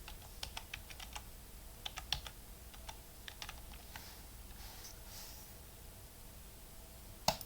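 Quick bursts of key presses on a computer keyboard while entering a Pokémon card name into a website search, light clicky taps in short clusters separated by pauses, ending with one sharper keystroke.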